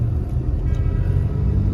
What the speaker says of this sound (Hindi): तो अभी ट्रैफिक शुरू हो गया है